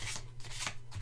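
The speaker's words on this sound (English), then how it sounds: "this is a very easy way to shuffle, and they slide very nicely" Glossy Nicoletta Ceccoli tarot cards are shuffled by sliding them together, making a soft, continuous close-up rasp with a few brief swells.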